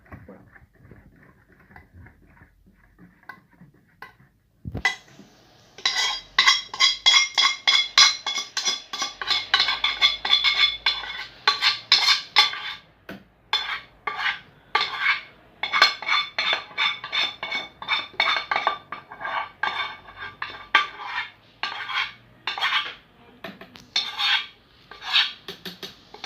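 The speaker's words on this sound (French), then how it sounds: "nous allons mettre le chocolat fondu, refroidi. Alors vous tournez bien." Spoon scraping and clinking rhythmically against a bowl while melted, cooled chocolate is stirred into chocolate fondant batter, quiet at first, then busy steady strokes close by.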